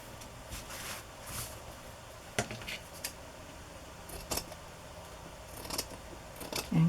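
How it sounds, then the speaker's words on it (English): Scissors snip off excess cover material while a handmade journal cover is made: several crisp metallic cuts in irregular succession, close and fairly quiet, with soft handling noise between them and no talk. "And cut off the excess."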